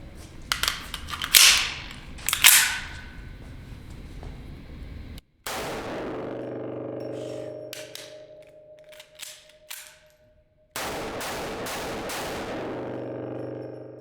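Two sharp, loud shots from a stainless Desert Eagle .50AE pistol with an integral muzzle brake, followed by a long steady mechanical hum with clicks and brief gaps in between.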